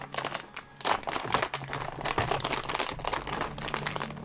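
A plastic candy wrapper on a pack of sour Starburst minis crinkles and tears open close up, with dense, busy rustling that runs on without a break.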